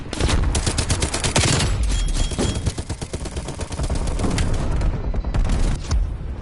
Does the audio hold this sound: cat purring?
no